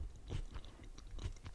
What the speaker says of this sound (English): Sorry, I'm chewing in your ears.